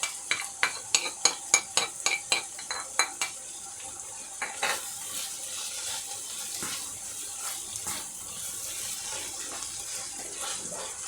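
Garlic going into a pan of frying onions and minced meat for a traditional Finnish cabbage soup: a run of close stirring clicks and scrapes, then a steady sizzling hiss with occasional scraping of the pan.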